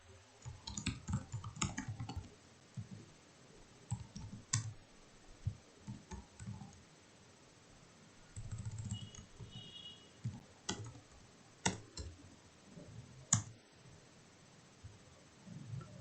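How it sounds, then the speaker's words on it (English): A computer mouse and keyboard clicking at a desk, scattered sharp clicks in irregular bursts over a quiet background, close and moderately soft, no voices. "click on this"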